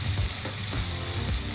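Tomato masala for Karnataka-style baingan bharta frying in oil as a spoon of coriander powder goes in, a steady close sizzle with faint stirring scrapes.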